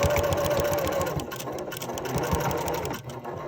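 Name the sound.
sewing machine stitching denim jeans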